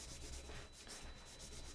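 A cloth rubbing polish onto a guitar body, a continuous soft scrubbing hiss with faint rhythmic strokes, quiet and close with no talking.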